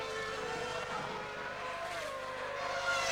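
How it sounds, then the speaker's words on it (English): A Toro Rosso Formula 1 car spinning off the track at the 2006 San Marino Grand Prix, heard as a steady high race-engine whine with shifting pitch under a thick layer of track noise. "that's one of the Toro Rossos spinning off the track"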